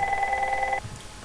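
A telephone rings with a steady electronic warble, one sustained burst of tone that stops abruptly, leaving a quiet room.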